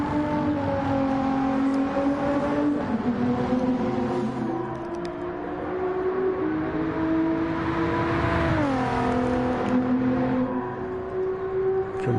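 Race car engines drone in a PS4 racing game, a loud sustained whine that rises steadily, dips sharply as if shifting near a right-hand corner, then climbs again, with no voices.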